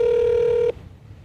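A single steady telephone tone sounds loud and close for about 0.7 seconds during a podcast call-in, then cuts off abruptly, leaving faint line noise.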